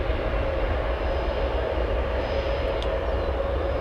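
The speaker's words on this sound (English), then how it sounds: "we have an aircraft that's on Taxiway Papa in between runways 10 left and 10 right" A jet airliner taxiing on a taxiway between runways at O'Hare Airport, a steady loud engine rumble and whine that holds even throughout, no talking.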